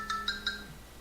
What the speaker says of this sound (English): Sorry, my phone's ringing.